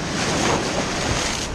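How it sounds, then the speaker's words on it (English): Ocean surf at a beach where blacktip sharks are fished: a dense, continuous roar of breaking waves mixed with wind buffeting the microphone, steady and loud with no voices. "I'm really fighting the waves, fighting the current, trying to get out to the spot."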